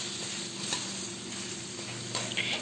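Carrots and potatoes stir-fried in a pan give a steady, loud sizzle, with occasional scrapes and stirring clatter throughout.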